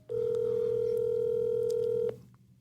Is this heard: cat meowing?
no